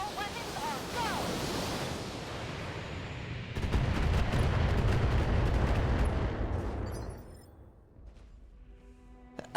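Mech weapons in the BattleTech game fire in a loud, rumbling barrage with heavy booms and a whooshing roar that swells then fades, ending in quieter mechanical sounds.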